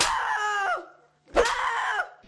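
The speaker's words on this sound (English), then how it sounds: "this kid's screams really cut right through you" A boy screams in a horror comedy film, letting out two loud, shrill, drawn-out cries separated by a brief pause of silence.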